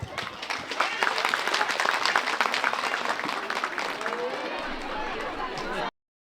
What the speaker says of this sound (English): Let's welcome our wonderful kids from Nursery B with a big round of applause.